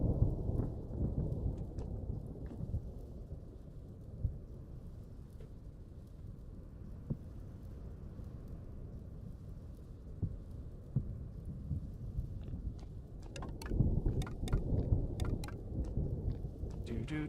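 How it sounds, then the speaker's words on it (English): A thunderstorm in the video game Vintage Story, deep rolling rumbles of thunder under steady rain, swelling louder toward the end with scattered crackles, and no voices. "Thunderstorms."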